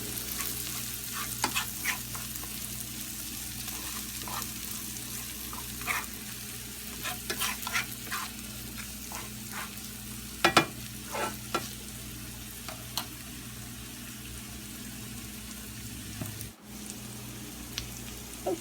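Onions and chili powder fry in hot oil in a pan for a purslane lunch, giving a steady close sizzle broken by scraping stirs and soft clicks, with no talking.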